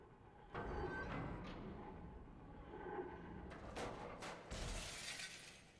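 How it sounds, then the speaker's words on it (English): A large sphere shatters in the video game Myst III: Exile, with bright glassy crashes near the end over a steady low ambient rumble; no voices. "That also appears to have smashed the largest sphere"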